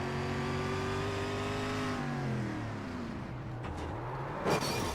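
Onboard helmet-camera sound from a race car as the driver brakes and the car spins, a loud steady engine drone with falling pitch as it slows, plus brief tire scrub near the end.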